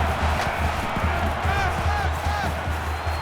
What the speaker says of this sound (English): They're one of the loudest crowds in the country